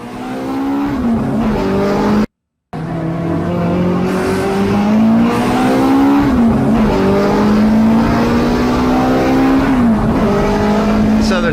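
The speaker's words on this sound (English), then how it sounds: "so you can see what one lap looks like at Laguna Seca in a BRE Bob Sharp" A BRE Bob Sharp Datsun race car laps Laguna Seca, its loud engine close and raspy, repeatedly winding up through the gears with quick shifts between pulls and a brief cut near the start.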